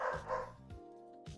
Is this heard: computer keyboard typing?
no